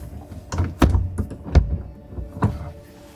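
Someone tries to force open a jammed door, with several sharp thunks and knocks as the handle and door are rattled and pushed, close and fairly loud with quiet gaps between.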